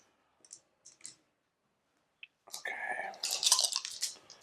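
Five raid dice rattle and clatter across a table during a game of Arcs, a few soft clicks first, then a louder, busy tumble of dice settling close by.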